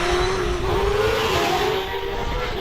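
A Gould GR55 hillclimb car fitted with a Cosworth XD engine, climbing a hillclimb course at Harewood, roars past loud and close as a dense, sustained engine howl with a slowly rising pitch and steady full-throttle drive.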